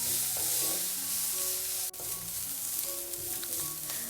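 Vegetables with green chilli sizzle and crackle steadily in a pan over a medium flame, with scraping stir sounds throughout and a brief dip midway.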